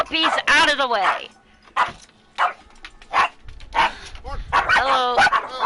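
Small puppy in the Dragon Age Inquisition video game giving several short yips and whimpering barks in close bursts, with a voice speaking alongside.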